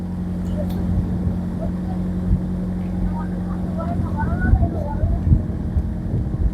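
A passenger river launch travelling by water from Munshiganj ghat, on the route from Narayanganj, gives a steady low engine drone and hum that runs through the whole stretch, with wind and faint scattered background sounds on top.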